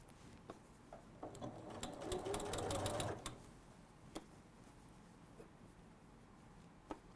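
A sewing machine stitches binding onto the inside of a quilt in a craft setting, running in a short burst of rapid whirring stitches followed by quiet pauses and scattered small clicks.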